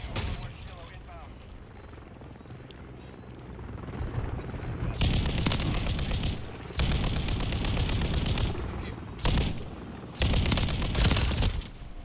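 Bursts of loud automatic fire from the Pulemyot 762 machine gun in Call of Duty: Modern Warfare III, several sustained sprays broken by short pauses, with game sounds and a voice underneath.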